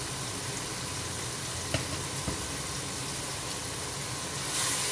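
Turmeric and chili powder frying in hot oil for a papaya beef curry: a steady, close sizzle with a couple of faint utensil knocks as the spices are stirred.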